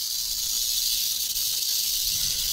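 A rattlesnake called Big Bob rattles in a continuous, loud, dry hissing buzz that holds steady without a break from start to finish.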